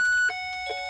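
A Rhythm clock sounds two or three bright electronic chime notes in quick succession, close and clear with no other sound.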